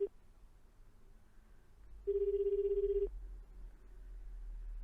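In the game 428: Shibuya Scramble, a phone call is placed: a short sharp click, then one steady electronic ring tone for about a second, then a low hum and quiet background.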